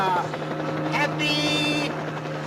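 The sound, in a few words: helicopter approaching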